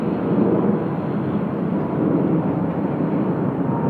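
An airliner on a long takeoff roll at Sydney Airport gives a steady, loud roar of jet engines that holds nearly constant from start to finish.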